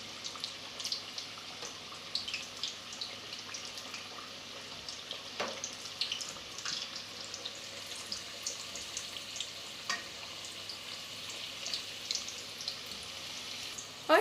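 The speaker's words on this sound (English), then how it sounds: "There it is, my samosas are still cooking." Meat samosas frying in hot oil in a pot, a soft continuous sizzle with scattered pops and crackles, faint and steady throughout with no talking.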